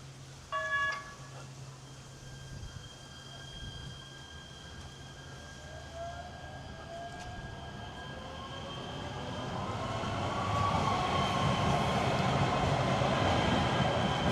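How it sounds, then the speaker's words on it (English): A Los Angeles Metro Gold Line train in Highland Park, with a brief chime and steady hum at first, then rising motor whine and rolling rumble as the train pulls away and grows louder. "This is just the subway train here, and this is the Gold Line."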